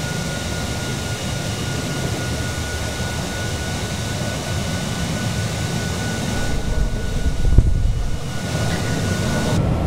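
A jet airliner in a flight simulator, an Aerosoft Douglas DC-8 waiting near the runway at SXM, gives a steady broadband engine roar that holds level throughout, with a brief thump near the end and no talk over it.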